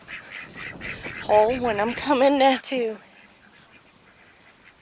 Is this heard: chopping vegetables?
no